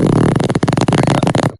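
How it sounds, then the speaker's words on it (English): A long, loud, close fart with a rapid buzzing flutter that stutters through several pulses before cutting off abruptly, no talking over it. "There he goes, unleashing his fart stash."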